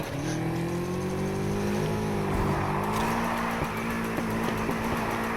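A Nissan Skyline drifts in a video game, its engine holding a loud sustained rev with shifting pitch and faint tire squeal, continuous throughout.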